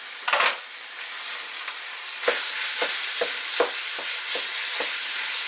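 Pork and beef mince with onion frying in a pan, a steady close sizzle with a series of sharper crackling bursts and stirring scrapes spaced through it, no voices.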